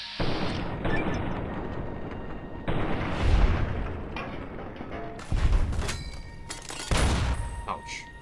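Rifle fire from This Machine in Fallout New Vegas, several loud, sharp shots with booming echoes spaced a second or two apart, each followed by a decaying rumble and some mechanical clatter.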